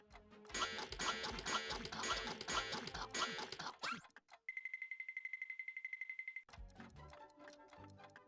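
Battered mechanical bird in the Toonstruck cartoon adventure game, a rapid run of clipped tonal squawks in a rhythmic burst between denser clattering game sounds, moderately loud with no voices.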